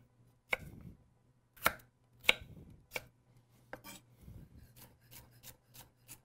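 A knife chops sharply on a cutting board, dicing vegetables small for a chicken salad in an irregular run of close, crisp strikes, with a faint low hum underneath.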